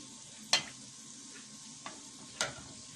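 Buñuelos fry in hot oil with a soft, steady sizzle, broken by a few sharp clicks and taps of a utensil against the pan.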